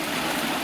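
A clean river with many fish rushes steadily in a brief, loud, unbroken hiss of flowing water, with no voices.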